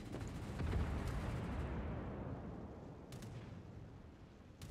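Deep, rolling booms of a naval gun salvo in World of Warships fill the mix, a sustained low rumble that slowly fades with no voices over it.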